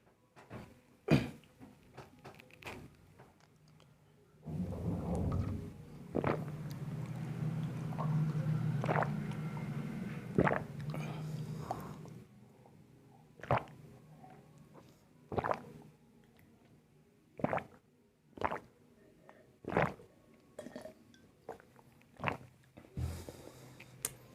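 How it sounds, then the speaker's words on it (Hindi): Someone drinks water close by: a sustained stretch of gulping and swallowing, surrounded by scattered soft clicks and mouth noises, with no speech. "मैं थोड़ा पानी पी लेता हूँ"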